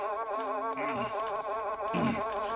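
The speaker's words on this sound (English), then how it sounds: "Them flies are working on my nerves. There they are," Swarm of flies droning close around a person outdoors beside a wagon, a steady wavering whine with harmonic layers and pitch sweeps as individual flies pass near, continuous throughout.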